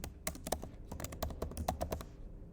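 Close, crisp keystrokes on a computer keyboard as text is entered into a form, an irregular run of quick clicks with brief pauses before falling quiet.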